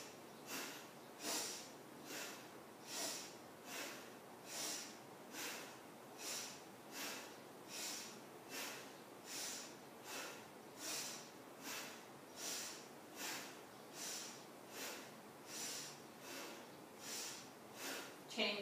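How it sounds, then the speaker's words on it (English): Alternate nostril breathing during a yoga practice, heard as a steady series of about twenty regular, airy inhales and exhales, each a soft breathy burst repeating roughly once per second, close and fairly quiet. "So inhale right, exhale left."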